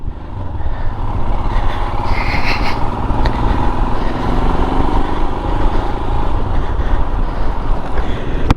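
A Royal Enfield Himalayan 411 motorcycle pulls away on a blowy day, its engine droning loudly and steadily under heavy wind buffeting across the microphone.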